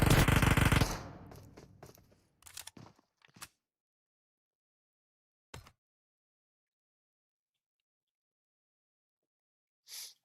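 A rapid burst of automatic M7 rifle fire in the mobile shooter PUBG Mobile hammers loudly at the start, then gives way to a few scattered, fainter shots and clicks separated by silence.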